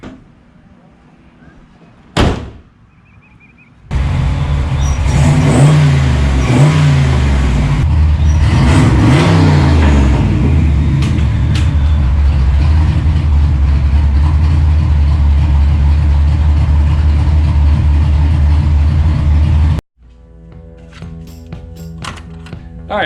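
A 1986 Ford Mustang GT V8 with an electric exhaust cutout starts up loud and close, revs a few times, then settles into a steady rumbling idle before cutting off abruptly, with a door clunk near the start.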